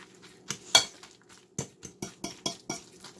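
A utensil mixing cod croquette mixture with black pepper in a bowl, a series of sharp clinks and taps against the dish at an uneven rhythm, close and alone.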